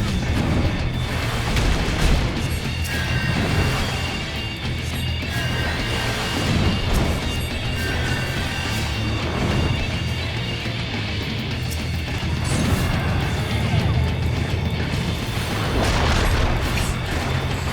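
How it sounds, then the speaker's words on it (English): A boss hurls a ball of lava down onto the tank in a Final Fantasy 14 fight, heavy booming crashes and impacts layered over dense, continuous battle noise and music for the whole stretch. "It looked like he grabbed just like a ball of lava and just smashed it on top of the tank."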